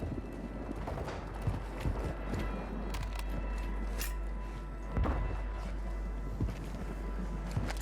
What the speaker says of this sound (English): if you hear multiple footsteps, you better run